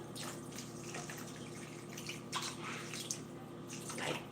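Water pouring steadily into a pot of uncooked rice, four cups over two cups of grain, a continuous close rushing splash with faint dribbles and no talk.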